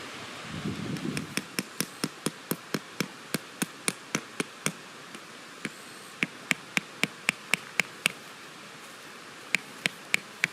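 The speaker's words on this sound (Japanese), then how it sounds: "バッタがちょっとなった。" Grasshopper chirps at a riverside campsite come as sharp, dry clicks in irregular bursts and rhythmic runs, close and clear over a steady background hiss.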